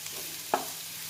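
A spoon scrapes once through a pav bhaji mixture in a frying pan, a single brief stir over a low, steady sizzle.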